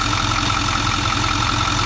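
A Ford 6.4 diesel engine from a salvage unit, running with blow-by: a loud, steady, close idle drone with even low-pitched pulsing and no variation in speed, nothing else heard.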